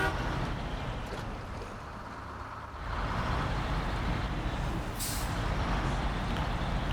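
A truck hitches a trailer in the video game Snowrunner, its engine droning steadily and loudly while a short, sharp air-brake hiss bursts out near the end.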